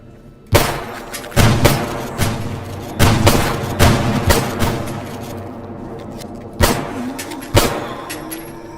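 Gunfire in S.T.A.L.K.E.R. G.A.M.M.A, a series of loud, booming shots fired a second or so apart, each trailing into a short echo, with a brief pause before two final blasts.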